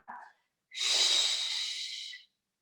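During an osteoporosis Pilates class, the instructor takes a single long, audible inhale lasting about a second and a half, close and breathy, following a short faint vocal sound at the start.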